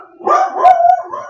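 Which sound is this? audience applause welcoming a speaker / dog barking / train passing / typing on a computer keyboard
dog barking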